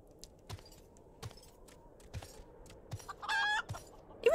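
In the video game Final Fantasy XIV, a chicken gives scattered soft clucks and then a short, brighter squawking call near the end, quiet and alone over faint game ambience.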